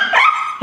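A pet dog at home lets out one drawn-out, high-pitched bark or howl, close and loud, followed by a short second yelp.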